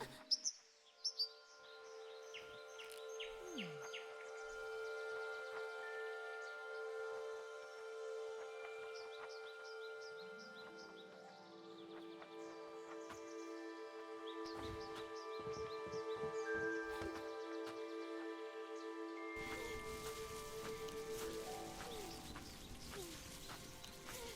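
Chirping birdsong from a video game, many short tweets and trills layered over a steady ambient music bed, with a few soft thumps early on and the texture thickening toward the end.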